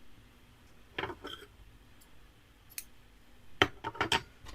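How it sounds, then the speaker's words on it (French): Scissors snipping crochet yarn, a few sharp close cuts: one pair of snips early, a faint one midway, then a quick cluster of clicks near the end over quiet room noise. "On va couper le fil"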